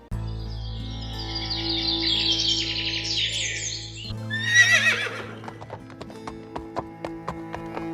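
Hooves of a horse clip-clop in a steady rhythm as a king rides toward the forest to hunt, beginning after a stretch of bright cartoon music with chirping birds and a brief whinny.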